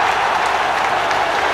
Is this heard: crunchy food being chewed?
no